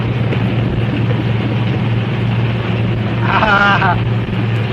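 Car engine idling steadily in a 1931 French film scene, a constant low hum on an old soundtrack, with a brief whine rising over it.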